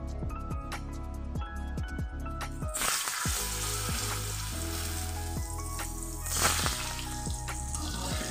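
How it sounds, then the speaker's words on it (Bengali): Sliced potatoes seasoned with salt and turmeric sizzle and fry lightly in hot oil in a wok, with a steady crackling hiss and occasional louder spatters throughout, close and continuous without any talk. "তাহলে চলো এটাকে হালকা করে ভেজে নিই"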